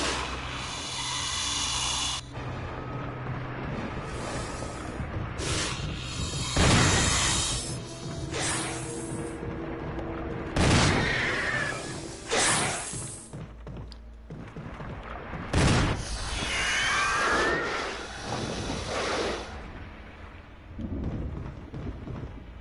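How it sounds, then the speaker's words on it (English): Shotgun blasts in the Resident Evil game, several loud, sharp booms spaced a few seconds apart with ringing tails, over a dark rumbling ambience and hissing background. "Good, clean shotgun. Take that."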